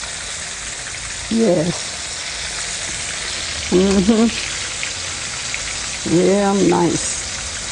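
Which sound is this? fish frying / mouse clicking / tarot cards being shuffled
fish frying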